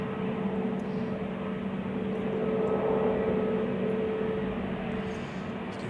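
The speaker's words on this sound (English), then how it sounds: "we have SAS on the way to the runway for departure" SAS airliner taxiing toward the runway for departure at Zurich Airport on a windy day, a steady distant engine hum and rumble with a faint tonal whine, continuous and even throughout.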